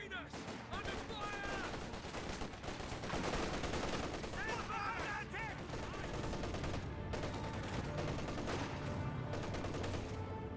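Battle gunfire in the Company of Heroes 2 video game: dense, continuous bursts of rifle and machine-gun shots mixed with explosions and game effects, loud and busy throughout.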